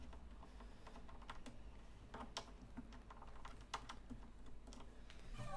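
Fingers tapping on a computer keyboard, a quiet and steady stream of light clicks in an uneven typing rhythm, close by and without talk.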